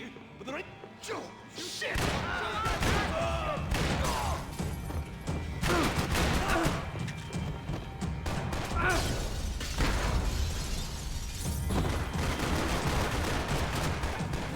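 Shotgun blasts and heavy gunfire fill a firefight in Max Payne 3, with repeated booming shots, crashes and thuds nearly nonstop after a short quiet start, loud and dense, with a voice talking over parts of it.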